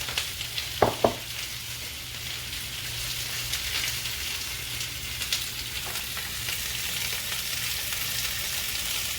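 Vegetables for pepper steak stir-fry sizzle steadily in a hot pan, a continuous close frying hiss with a couple of sharp clanks of the utensil or pan early on, no talking.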